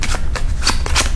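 Playing cards from a board game shuffled into a discard pile, a quick series of close, crisp riffling flutters, loud and alone.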